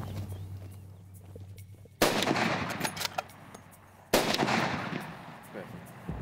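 Two sharp, loud rifle shots a couple of seconds apart, fired at a dagga boy buffalo on a hunt, each with a booming outdoor echo that trails off, amid quiet field ambience.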